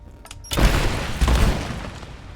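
Gunfire in the Rise of the Tomb Raider video game, aimed at a bear: two loud booming shots in quick succession, each with a heavy rumbling tail, sounding alone.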